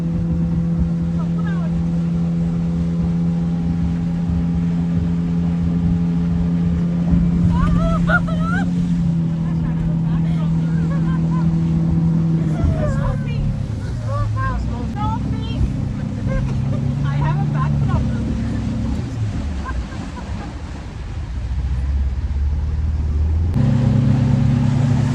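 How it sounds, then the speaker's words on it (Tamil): Speedboat ride on water near Munnar, with a loud steady engine drone and rushing water throughout, and the engine pitch shifting midway; voices talk over it at times. "ஸ்பீட் போட்டில் போக போகிறோம்."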